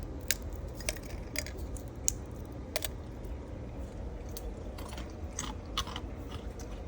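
Dried apple slices are bitten and chewed close up, with a series of sharp, irregular crunches over a low background rumble and no talking.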